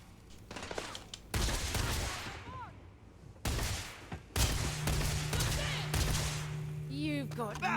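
Video game gunfire erupts in several loud, dense bursts separated by brief lulls, with a sustained low hum and whistling sounds near the end and a voice talking between the volleys.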